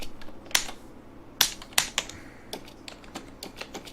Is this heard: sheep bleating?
no